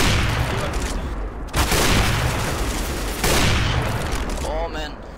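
Rapid, dense gunfire from a CS:GO match rattles on continuously and loudly, with heavier bursts near the start and middle and a few brief gaps between volleys.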